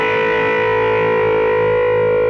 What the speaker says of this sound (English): Now you can start pushing the third string while maintaining the steady B string.